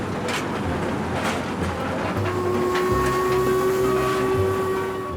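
Royal Scot steam locomotive hauling 256 tons of packed carriages up a 1 in 49 climb through the Esk Valley, a continuous heavy rumble with rail noise and a sustained whistle-like tone, steady and fairly loud.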